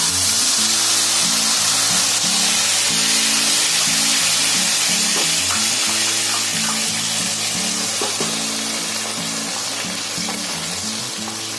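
Whole spices (khada masala) frying in hot oil in a pan, a loud, continuous close sizzle with occasional stirring scrapes and no talking.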